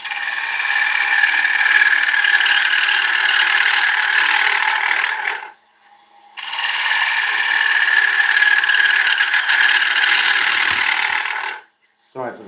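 A lathe-turned oak bowl being shear cut, the gouge giving a loud, steady scraping hiss that runs for several seconds, stops briefly, then resumes before cutting out again at the end.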